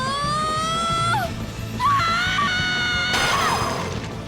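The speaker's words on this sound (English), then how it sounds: "What a scream." A creature in the Bravely Default Flying Fairy HD Remaster game lets out several loud, shrill, wavering screams in quick succession over steady game music, each cry rising and breaking off.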